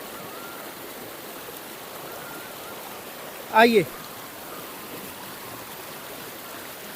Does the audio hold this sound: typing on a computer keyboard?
no